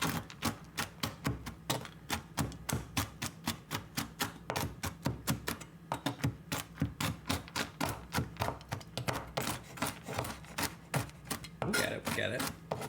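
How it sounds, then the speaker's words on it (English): Nuts being chopped with a knife on a board during a cooking session, a steady run of close, crisp, rapid knife strikes repeating for several seconds with no talking. "we're chopping nuts"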